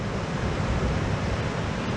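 Ocean surf recorded on a GoPro MAX camera, a steady, loud wash of breaking waves with some wind noise against the microphone, unbroken for the whole stretch.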